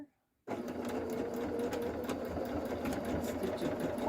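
A sewing machine stitches up the corner of a patchwork zipper pouch, its motor running in a steady, continuous whir after a brief silent start, close and clear with no talk.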